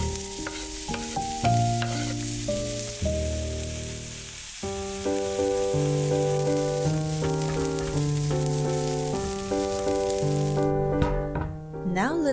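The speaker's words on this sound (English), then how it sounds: "Now we'll saute some onions and carrots." Onions and carrots sauté in a pan with a steady, even sizzle beneath continuous background music.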